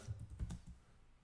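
Computer keyboard typing, a short burst of a few soft key clicks over about half a second, then quieter background.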